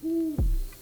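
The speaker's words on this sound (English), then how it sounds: "its most famous wild resident is a great horned owl named Charles" A great horned owl named Charles, living wild in Forest Park, gives a low, drawn-out hoot followed by a deeper, falling second note, clear and fairly close.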